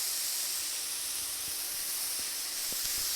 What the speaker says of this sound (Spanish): vamos a ver que se sofría un poquito hasta que quede como un poquito transparente